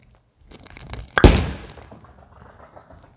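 A freshly resurfaced Storm IQ Tour 78/U urethane bowling ball is released onto the lane with a sharp, loud thunk at the drop, then a fading rumble as it rolls away, with no talk.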